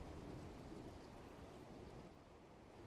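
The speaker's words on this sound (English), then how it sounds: "As the crackle of thunder in the distance goes off, the fighting stops." A distant thunder crackle played as a sound effect during a tabletop miniatures game session, a low continuous rumble with rain-like hiss, faint and steady throughout.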